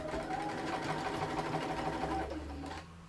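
A sewing machine runs continuously, back stitching the layered fabric of a cathedral window pin cushion, with a fast, even mechanical whir and needle clatter close by that slows and fades near the end.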